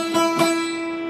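A guitar gives a quick down-up-down strum on the 5th fret of the B string, with two close, even strums over a sustained ringing note that fades out, heard alone.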